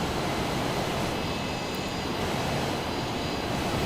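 An F-18 jet in Microsoft Flight Simulator 2020 roars continuously with a dense, steady engine rush and no pauses, heard from outside the aircraft.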